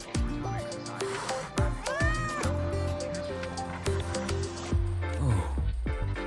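Frightened cat meowing inside the video game Wuthering Waves, several close, drawn-out, wavering meows set over a continuous musical score, with no voices.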